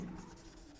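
Marker or chalk writing on a board during a quantum chemistry lesson, a brief continuous scratchy stroke, quiet and close, with no talk over it.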